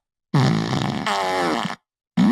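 Two long, loud farting blasts come back to back, rasping and wavering in pitch, then a brief silence before a third blast starts abruptly at the end.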